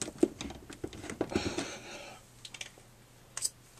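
Small plastic clicks from the hand part of a Marvel Select Thanos action figure, a scatter of sharp close ticks and light handling rattles, quiet and uneven, with no voices.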